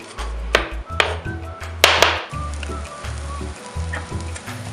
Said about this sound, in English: we are frying up the onion that we chopped up